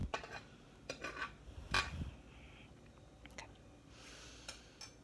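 Oil being spread around a hot pot on a stovetop before making popcorn, heard as faint scraping and clinking of a utensil against the metal pot in short scattered bursts, fairly quiet and close.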